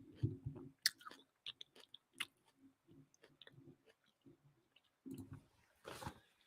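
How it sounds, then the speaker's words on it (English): A person chews food close to the microphone, making quiet wet squishing and light crunchy clicks in an irregular rhythm, with a louder burst near the end. "Sorry, I'm chewing, guys."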